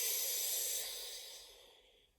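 Someone slowly breathes in during a breathing exercise, a soft, close, airy hiss that fades gradually over a couple of seconds.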